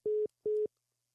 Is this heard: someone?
no